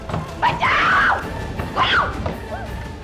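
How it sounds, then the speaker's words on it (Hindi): A woman screams in sharp, loud bursts, two main cries about a second apart followed by a fainter wail, heard close in an indoor domestic scene from a Hindi crime drama. "देखो कैसे चिल्ला रही है"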